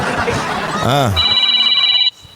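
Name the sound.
telephone ringing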